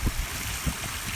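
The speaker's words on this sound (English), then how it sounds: "a very impressive water feature" Flowing water from a water feature in a cemetery, a continuous close splash and trickle with soft rhythmic gurgles, no voices.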